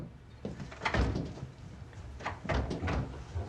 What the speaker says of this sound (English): The door seems to be locked.